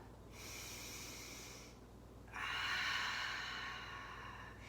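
A deep breath during yoga practice, a slow audible inhale through the nose followed by a longer, stronger airy exhale, close and alone in a quiet room.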